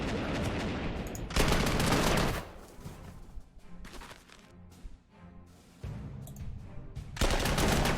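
Weapons fire in the Panzer Corps 1939 wargame, with loud bursts of gunfire near the start and again at the end, and quieter, rattling combat sounds in between.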